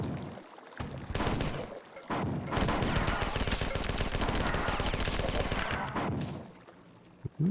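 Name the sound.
gunfire from video game Marathon 2: Durandal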